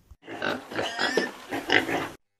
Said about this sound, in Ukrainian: Так, це свиня.